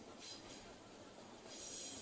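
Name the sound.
train passing by the football ground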